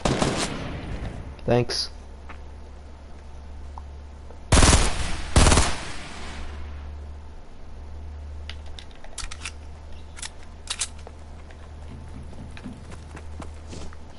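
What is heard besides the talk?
gunfire in the video game Fortnite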